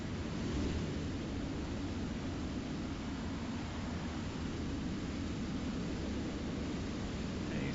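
A jet aircraft hovering in place on its thrust nozzles in War Thunder gives a continuous, even roar of broadband rushing noise with no breaks or talk.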